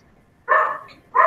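A dog close by gives two sharp barks with a short gap between them.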